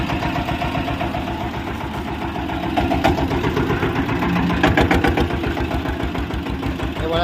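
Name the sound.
geared vehicle engine running after starter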